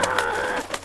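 A bird in the Disney Frozen: Forces of Nature game makes a short, close, warbling call, under a second long, with two soft peaks and nothing else audible.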